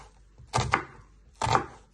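An onion is chopped into little pieces with a knife: two quick pairs of crisp blade strikes on a board, close and clear with no talk.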